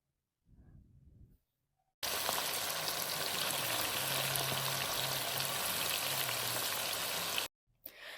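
Chicken pieces dropped into hot ghee set off a loud, steady close sizzle that starts abruptly and holds evenly for several seconds before cutting off.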